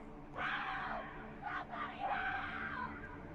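A character in the video game BROK the InvestiGator screams in a long, strained, wavering cry that is loud and close, with a brief break midway.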